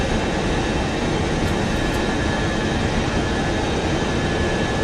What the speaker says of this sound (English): The engines are really loud.